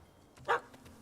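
A single sharp bark from a puppy in the Witcher 3 video game, fairly close and brief, set against quiet ambient game sound.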